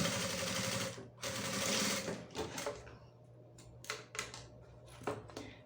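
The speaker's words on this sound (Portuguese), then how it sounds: "e passo uma costura de um pé de máquina" A sewing machine stitches a seam with backstitching at the zipper of a crossbody bag: a close, rapid mechanical chatter in two runs, then short bursts with clicks and pauses.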